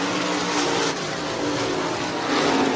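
Stock cars race at Hancock County Speedway, a steady loud roar of engines with tire noise sustained throughout, no voices over it.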